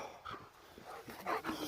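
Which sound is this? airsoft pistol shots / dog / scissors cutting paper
dog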